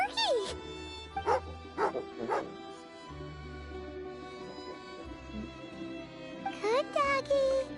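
A cartoonish dog in a video game gives several short yips and barks in clusters near the start, at mid-clip and near the end, over steady game music.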